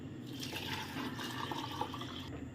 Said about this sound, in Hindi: पानी इसमें डाल देंगे तकरीबन 3 लीटर के बराबर।